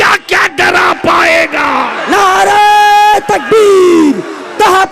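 A large crowd at a religious conference gathering in India roars a takbir chant in answer to a speaker's call, loud massed voices in swelling, sustained shouts that rise and fall over several seconds.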